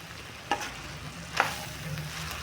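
Avalakki with grated coconut being stirred in a pan on the stove, a soft sizzle with two distinct spatula scrapes and a fainter third, close and without talk.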